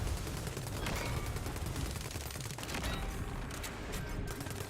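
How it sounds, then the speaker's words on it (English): Bombs exploding in the video game Tiny Tina's Wonderlands, a dense loud barrage of rapid blasts and gunfire-like bursts that continues without pause through the whole stretch. "Those bombs again."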